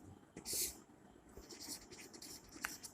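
Pen scratching across paper while working a maths problem in a lesson, a series of short close strokes and scrapes with a few sharper marks, fairly faint and with no talk.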